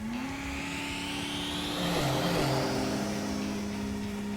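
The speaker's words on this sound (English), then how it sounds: "Activating turbo!" A race car in a video game accelerates with its turbo engine, a steady loud droning whine rising in pitch against continuous game noise, with no talking.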